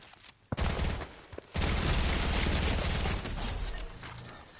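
Fortnite gunfire with a turret shooting: a brief burst, a short pause, then a long, loud, continuous fusillade of rapid shots that eases slightly toward the end, with no speech over it.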